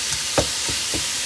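Ground meat cooking in a pot for Bolognese makes a soft, low sizzle, broken by three or four quick stirring scrapes; no one talks.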